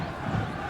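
Dense, steady crowd roar inside a football stadium at a 2009 Sligo Rovers versus Derry City league match, a continuous wash of many voices with no single sound standing out.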